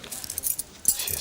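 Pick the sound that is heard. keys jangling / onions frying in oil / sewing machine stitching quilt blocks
keys jangling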